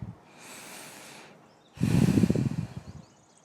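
Two slow breaths during a yoga stretch: a soft, drawn-out inhale through the nose, a brief pause, then a louder, heavier exhale, close and alone.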